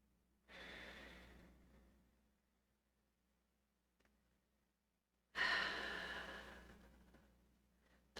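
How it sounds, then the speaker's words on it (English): Two slow, deep breaths during a calm body-and-mind practice session, each a soft, airy exhale of a few seconds, close and quiet, separated by near silence. "Another deep breath"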